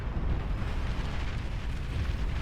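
A big explosion in the real-time strategy game Beyond All Reason rumbles as a loud, sustained low roar with a dense noisy wash, continuous for a couple of seconds and without talk.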